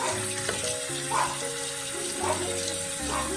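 A bathroom tap runs steadily while the water warms up, a close, even rush of flowing water. A faint tonal hum rises and falls underneath, and no one talks.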